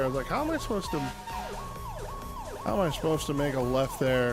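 Wailing, warbling ambulance siren in a driving video game, sweeping up and down in repeated cycles and sounding loud and close throughout, with someone talking over it in a livestream.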